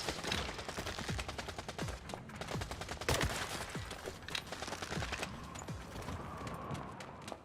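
Rapid automatic gunfire in the looter-shooter The First Descendant, a steady stream of sharp shots at fairly low level with occasional heavier impacts mixed in.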